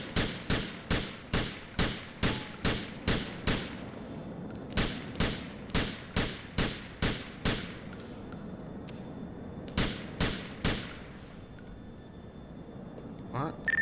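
Handgun fired on a shooting range in GTA 4, sharp loud shots in quick rhythmic bursts of about eight, then several more after a pause, with faint background ambience between.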